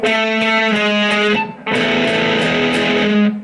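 An electric guitar rings out in sustained, distorted high notes played at the 12th fret of the A string, a brief break in the middle, then the tone resumes and holds.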